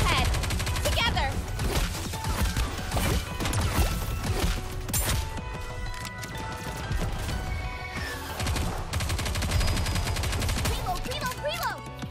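Dense, rapid gunfire from the video game NIKKE rattles in loud, continuous bursts, with shots and impacts layered over game music and effects.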